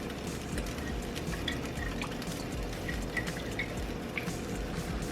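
A sauce with Worcestershire simmers in a pan, giving a soft, steady bubbling with small scattered pops and ticks over a low background hum, no voices.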